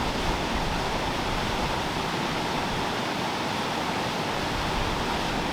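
Broad steady rush of the River Windrush flowing through a wide channel in the Cotswolds, a continuous even wash of water, fairly close and unbroken, with no voices.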